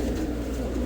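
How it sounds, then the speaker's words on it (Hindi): White-eyed Makoye Punjabi pigeons cooing, a soft low continuous purring coo close by, steady and brief, with no voices. "सफ़ेद मकोए कबूतर हैं"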